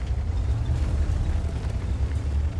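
A tank cannon fires in a video game, the T-54, a heavy, low rumbling boom that fills the whole moment and decays slowly with no speech over it.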